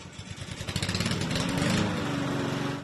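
A lawn mower engine runs close by with a loud, steady drone whose pulsing rises and evens out.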